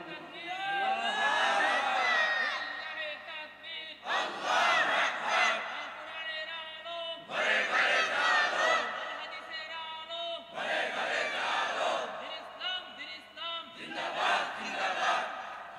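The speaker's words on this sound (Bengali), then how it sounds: "একটু জোরে তাকবীর দেন তো দেখি" A crowd at a religious gathering in Madaripur Sadar shouts the takbir together in several loud, surging bursts, each a swelling mass of voices followed by a short drop before the next call rises.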